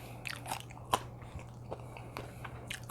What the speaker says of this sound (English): I love the crunch. Crunch is one of my favorite things.